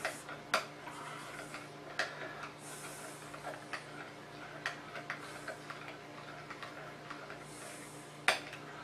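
Repashy gel food powder being stirred into water in a container: a series of light clicking taps, irregular and fairly soft, with a few sharper knocks over a steady faint background hiss.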